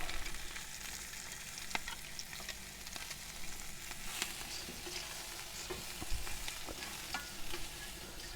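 Sliced onion and garlic frying in a hot pan at a camp stove, a steady broad sizzle with occasional sharp crackles and stirring scrapes, close up with nobody talking.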